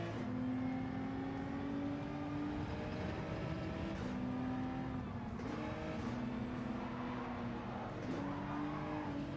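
Race car engines in Gran Turismo 7, a sustained high engine whine climbing in pitch through several gear changes with brief drops between shifts, steady and moderately loud with no talk.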